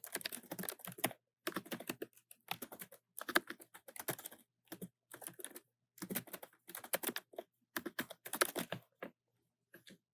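Fast typing on a computer keyboard as a task name is entered: bursts of crisp, close key clicks separated by short pauses, with no talking.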